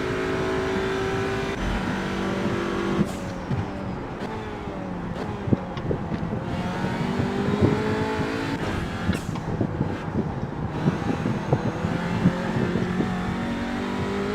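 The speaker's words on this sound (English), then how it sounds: "Seem to be revving the nuts off it by keeping it in third" A TCR touring race car at Imola is held in third gear, its engine revving hard and continuously near the cockpit, pitch climbing and dropping through corners under steady wind rush.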